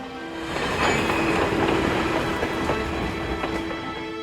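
A train runs steadily along the rails with a continuous rumble and regular clickety-clack of wheels over joints, loud and close, with no voices.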